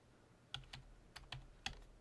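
Several keystrokes on a computer keyboard spell out a short word, about five quiet, separate clicks spaced unevenly across a couple of seconds, alone in a quiet room.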